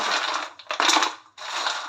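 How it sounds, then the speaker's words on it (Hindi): Crunching of crispy fried mathri made from wheat flour and fresh fenugreek, loud and close, with steady crackling bites broken by a short pause and a fresh burst of crunch. "मैंने ढेर सारे कुरकुरे टेस्टी स्नैक्स बनाकर तैयार कर लिए हैं और ये कितने ज़्यादा क्रिस्पी बनी है"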